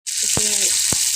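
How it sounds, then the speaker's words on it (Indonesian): Sambal lengko sautéing in a pan: a loud, steady hiss of sizzling oil throughout, with two brief low thumps of a spatula stirring, and no talking. "Kita tumis dulu"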